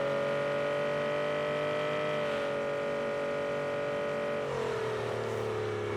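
An Aston Martin V12 Vantage driving off-road in a video game, a steady droning engine tone holding pitch before dropping as the revs fall near the end, close and continuous with no talk.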